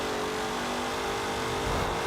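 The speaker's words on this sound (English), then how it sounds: "Now the engine sounds so much different." A C2 Corvette Stingray's upgraded engine in Forza Horizon 4 drones steadily at high revs, loud and close, a continuous buzzing note with no break and no talk.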